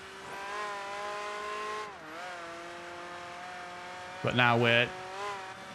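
A race car in Project Gotham Racing 3 holds a steady, buzzy engine whine whose pitch sags at a gear change, with a brief flutter-valve chatter between shifts. Someone speaks briefly near the end.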